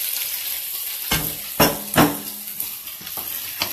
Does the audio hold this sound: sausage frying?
yes